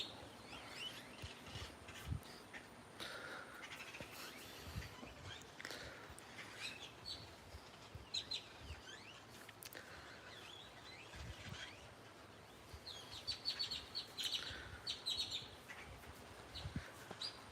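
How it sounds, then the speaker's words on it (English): Several birds chirp and tweet outdoors in scattered, overlapping calls, fairly faint against a steady background hiss, with brighter bursts of song toward the end. "listening to the birds just kind of chirp in the background"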